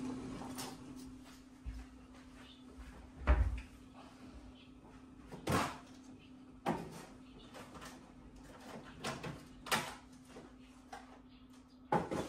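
A medicine drawer in a home kitchen is opened, closed and rummaged through, giving scattered knocks, slides and rattles over a low steady hum, louder bumps spaced several seconds apart.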